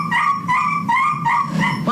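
A puppy whimpering and yipping in short repeated high cries while chewing on something, close and loud, with no talk.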